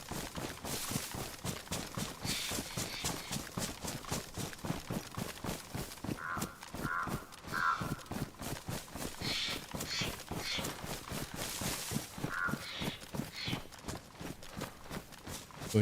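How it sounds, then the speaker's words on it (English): Running footsteps in the survival game DayZ, a steady rapid thud-crunch rhythm pounding across open ground throughout, loud and close, with occasional brief higher rustles or clinks layered over the cadence. "You can hear the footsteps"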